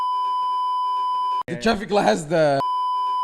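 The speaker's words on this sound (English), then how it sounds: "I'll beep this out" A steady censor bleep tone runs under quiet speech for over a second, then cuts out as a voice talks loudly, and the same sustained tone returns at the end.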